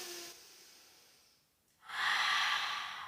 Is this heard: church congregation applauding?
no